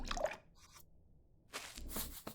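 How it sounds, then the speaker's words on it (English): Water splashes into a cooking pot in the cooking video game Venba. A short wet burst comes first, then a pause, then longer sloshing, dripping pours near and clear with no speech. "Let me get the water in first."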